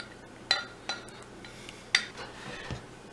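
A spoon scoops the rest of the muffin batter out of a mixing bowl, making a few sharp clinks and soft scrapes against the bowl, close up and with no talk.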